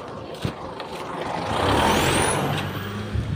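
Road traffic on a dark roadside stretch, with a truck or large vehicle rushing past close by and a hiss of air brakes, engine rumble swelling and fading, other cars passing in the background.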